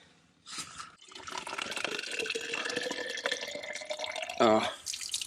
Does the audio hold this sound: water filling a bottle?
yes